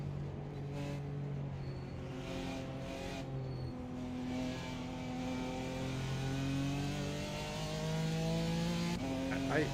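In a racing video game, a Porsche GT4 race car's engine revs and climbs steadily at moderate level, with gear shifts audible as the pitch rises and drops, while a person talks over it.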